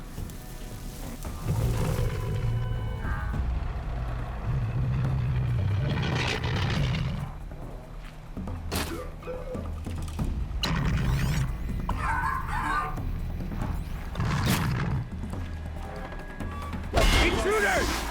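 The Ravager, a robotic machine in the video game Horizon Zero Dawn, gives off whirring, clanking mechanical noises and sharp metallic impacts amid game ambience, and voices talk across much of the stretch.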